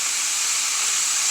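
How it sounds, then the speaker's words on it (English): Broccoli sizzling in a hot pan while cooking for a Cajun steak and shrimp one-pan meal, a steady, loud, close hiss with no talk. "this pan is nice and hot, as you can tell, so it doesn't take very long for the broccoli to cook and get those brown bits"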